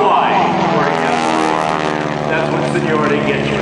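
A P-51 Mustang propeller fighter roars overhead during a reverse Cuban 8 aerobatic routine at an air show, loud sustained engine drone with shifting pitch as it climbs and turns.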